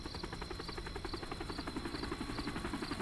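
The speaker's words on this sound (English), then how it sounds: "Lots of choppers coming and going." Helicopters in the Metal Gear Solid Ground Zeroes video game, a steady rhythmic rotor chop with an insect-like buzzing drone, continuous and fairly even throughout, with no talk.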